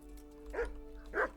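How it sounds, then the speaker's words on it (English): Two sharp dog barks from a hound in the medieval role-playing game Kingdom Come: Deliverance, spaced about half a second apart, fairly close and clear over a low steady background hum. "Hello there, doggy."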